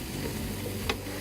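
Mushrooms seasoned with salt and pepper sizzle in a pan while cooking down and releasing their juices, a steady close crackle with one brief sharper tick near the end.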